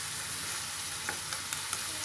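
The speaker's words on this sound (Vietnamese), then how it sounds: "để cho nó lửa vừa vừa các bạn, để cho nó rút các cái gia vị vô trong cái phần nấm với lại tàu hũ kỳ của mình nha" Mushrooms and tofu skin frying over medium heat while seasonings soak in, an even hiss of sizzling with a few light utensil taps near the end, close and steady.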